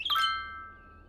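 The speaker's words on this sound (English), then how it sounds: "I'm turning down that chime noise" A bright two-tone interface chime from the city-building game Cities: Skylines rings once, close and clean, then its tones linger and fade over a faint low hum.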